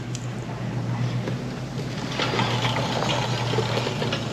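Small MB200 mini bike engine cranking and then settling into a steady idle, a continuous low rumble that grows slightly louder partway through, outdoors with some wind.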